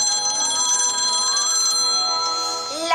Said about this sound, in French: Désolé, c'est ma nouvelle sonnerie.